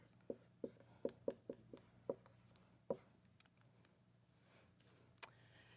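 Chalk or marker taps and scratches on a board during a mathematics lecture, a quick run of about eight sharp strokes followed by a pause and one last tap, close and quiet with no talk.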